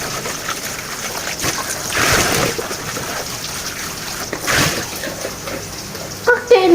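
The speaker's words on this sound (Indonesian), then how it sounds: "Oke, lanjut kita cuci percabeannya" Tap water runs steadily while green chilies are washed, a close, continuous splashing stream that surges twice as the chilies move under it.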